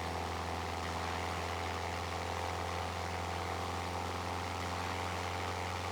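Steady, droning propeller engine of a Cessna 172SP in the Aerofly FS2 flight simulator, a constant loud hum with a low fundamental and broad airflow noise running unchanged throughout, with no talking.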